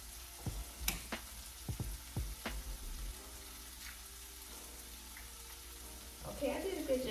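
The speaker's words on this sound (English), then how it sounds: "I'm going to do my best to crack these eggs without adding a piece of shell in it" Small eggs cracked one after another against a hard edge, several sharp taps and cracks in quick succession followed by a quieter stretch, then a brief wet spill and shuffle near the end.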